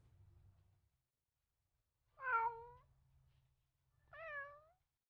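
Two clear meows from cats at their usual hangout spot, each about half a second long and separated by a pause, with a low background rumble between them.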